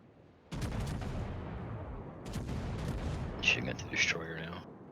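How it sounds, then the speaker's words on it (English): Naval gunfire aimed at a destroyer in a warship video game, heard as a series of heavy booming salvos that sound mid-distance, layered over rumbling battle noise, with brighter sharp cracks near the end. "Shooting at the destroyer now."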